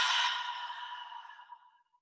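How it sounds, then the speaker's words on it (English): A single soft breath pushed out through the mouth during qigong practice, starting strong and trailing away over about two seconds, close and quiet with no other sound. "inhale through the nose, exhale through the mouth"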